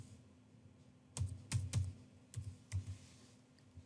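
Scattered clicky keystrokes on a computer keyboard, a few quick taps in irregular bursts, close and moderately loud over a low hum, with no talk.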